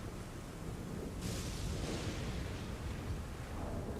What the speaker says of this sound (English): It's just lightning. Nothing to be afraid of.